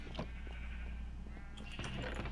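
Sheep on a sheep farm in the video game Minecraft bleat several times, with a few short overlapping calls spread across a steady low background hum.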